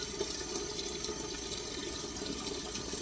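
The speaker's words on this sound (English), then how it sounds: "They said to add in the pot with water, a big pot." A big cooking pot filling with water from a tap, a steady close rushing splash that stays even and continuous throughout, with no talking.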